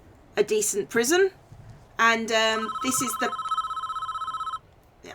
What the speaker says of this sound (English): that's the phone. Should probably pick up the phone.